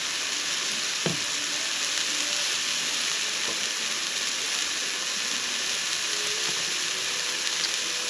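Lean 96.4 burgers on a camp griddle give off a steady, close sizzle and frying hiss with no gaps, broken only by a light scrape or tap near the start.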